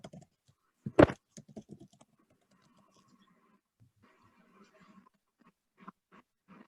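Light typing on a computer keyboard in scattered taps and short runs of keystrokes follows one sharp knock near the start, soft and close in an otherwise quiet room.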